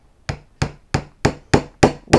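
Seven evenly spaced hammer blows drive nails into a wooden deer head mosaic made from Christmas ornaments, each a sharp close knock with a brief ringing decay.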